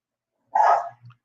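A dog gives one loud, close bark followed by a softer short growl or whimper, with silence around it.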